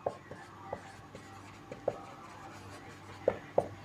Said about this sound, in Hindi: मैं इसे ब्लैक पेन से ही लिखता हूँ